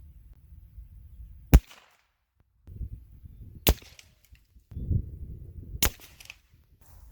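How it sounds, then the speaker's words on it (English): A CMMG 300 Blackout rifle with an 8.5-inch barrel fires 180-grain subsonic rounds: three sharp, fairly loud shots spaced about two seconds apart, with quiet outdoor rustling and low rumble in between. "So we're going to go back to 50 and shoot the subs and see where they land compared to the supers."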